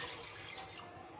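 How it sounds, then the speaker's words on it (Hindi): Water running steadily into a cooking pot for a bone paya stew, a soft, continuous splashing pour heard close and fairly quiet. "साथ ही मैं इसमें शामिल कर देती हूँ पानी"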